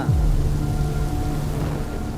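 A storm with heavy rain and thunder, heard as a loud, steady roar of rain with a deep low rumble underneath that holds throughout, and no voices.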